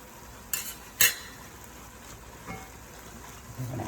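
Italian sausage and ground beef frying with tender onion and freshly added garlic in a pan, a soft sizzle under two sharp utensil clinks against the pan and some stirring scrapes.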